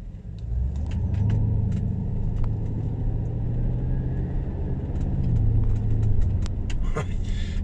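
A Porsche Cayenne with a newly replaced lambda sensor drives through town, its engine a steady close rumble from inside the cabin, the pitch dipping once around a gear change, with faint clicks and rattles above.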